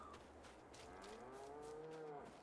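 A single drawn-out cow moo with a rising and falling tone, mid-distance over low farm ambience in the Farming Simulator 22 game, no talk.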